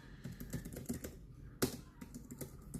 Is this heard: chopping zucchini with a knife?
no